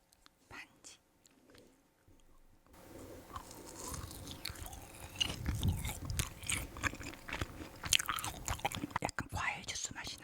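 Close-up chewing of a frozen ring-shaped gummy jelly, quiet at first, then a dense stretch of hard crunches and bites with wet mouth sounds, alongside soft whispered talk.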